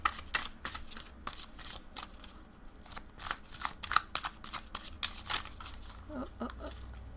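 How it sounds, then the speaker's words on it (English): Tarot cards are pulled and shuffled from a deck, giving a quick series of crisp papery flicks and slides, close and fairly soft, with brief pauses between bursts. "I'm going to take out a little bit more cards"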